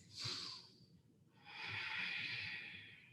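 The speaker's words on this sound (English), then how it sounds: "So take a couple big breaths" Two big deep breaths, close and quiet: a quick airy inhale, a short pause, then a long, steady, breathy exhale lasting over a second.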